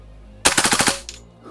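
A SOCOM Gear KEL-TEC PLR-16 gas blowback airsoft pistol fires a short full-auto burst of about six rapid sharp cracks in quick rhythm, close and loud, followed by a single fainter clack as the action locks back.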